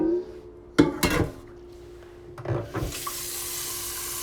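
A couple of sharp clunks as a container is handled, then a steady rushing pour of water filling it to cover skate blocks, close and moderately loud.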